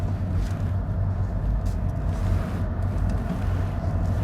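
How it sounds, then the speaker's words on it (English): A car approaches with a broad, continuous low engine and tyre rumble, fairly loud and close throughout, with no other sounds over it. "here comes a car"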